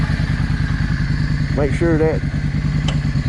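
A Yamaha V Star 650 motorcycle engine runs with a steady, loud mid-pitched throb while its clutch is tried out, a brief rising whine cutting in partway through, with someone talking over it.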